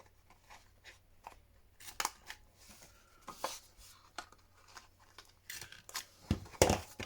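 Scissors snip around paper corners while shaping pieces for a handmade shabby rose ephemera purse, a series of close, crisp cuts and rustles with a few louder snips near the end.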